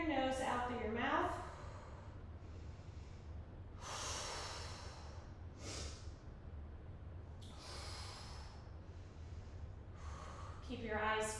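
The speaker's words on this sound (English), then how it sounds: "you're going to breathe in through your nose, out through your mouth" Slow, controlled breathing during an ab workout, drawn in through the nose and let out through the mouth, with several audible close-up breath sounds: snorty inhales and breathy exhales repeating at a relaxed, steady pace.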